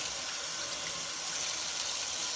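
Hot water running steadily from a kitchen tap, a constant broadband hiss and splash with no pauses, close by and moderately loud, with no voices.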